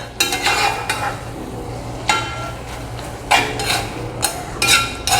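Ingredients are tossed and stirred in a cooking pot, a series of irregular scraping clatters of a utensil against the pan over a low steady hum, close and fairly loud.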